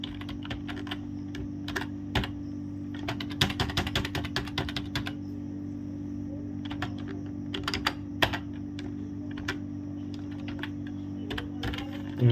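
Someone types an email on a computer keyboard: bursts of quick key clicks over a steady low electrical hum, dense around the middle, with sparser taps toward the end.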